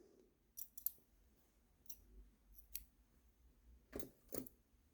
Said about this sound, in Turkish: ipimi kesiyorum